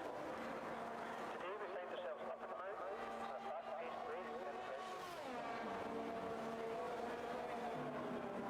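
Onboard engine of a Formula 1 car in an esports racing video game at the Austria circuit; loud, high revs climb and drop through gear changes under continuous talk.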